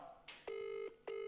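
A phone call rings with two steady electronic tone bursts separated by a short pause, faint and thin beneath low background chatter.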